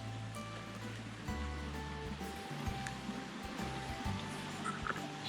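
Water flows steadily at the outflow of a lake in a Washington forest, a soft continuous rushing and burbling heard close by and alone.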